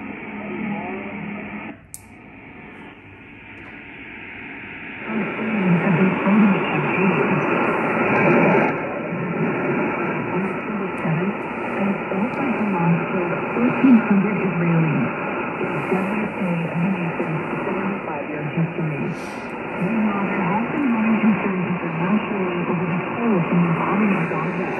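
A Grundig 800 shortwave radio playing through its large built-in speaker, giving a steady band-limited broadcast with a soft click at the start and a louder, fuller sound after about five seconds.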